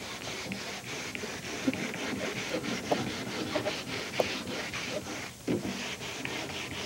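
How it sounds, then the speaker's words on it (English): Sandpaper rubbing along the edge of a stained wooden hope chest, a close, continuous scratchy rasp in quick back-and-forth strokes with a few light knocks. "what happens if I sand an edge?"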